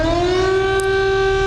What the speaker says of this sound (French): déterminer sur quelle note est-ce que résonnait la sirène du premier mercredi du mois